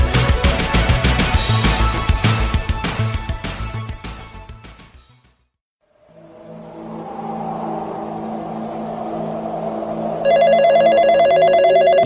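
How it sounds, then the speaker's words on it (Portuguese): A telephone rings in a home recording setup, first amid dense loud music-like sound, then after a short silence a sustained tone rises with a steady ringing pattern near the end, close and clear. "Eita, eu acho que é o meu telefone?"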